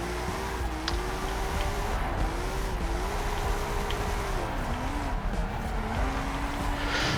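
Hot Wheels Goliath drifting in Forza Horizon 5, a steady engine drone with a wavering tone that rises and dips as the car slides, plus faint tire noise throughout.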